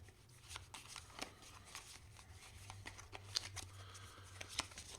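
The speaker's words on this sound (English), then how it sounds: "Okay, we are going to shuffle again." Playing cards are shuffled up close, giving quick riffling bursts and soft snaps in an irregular rhythm over a low hum.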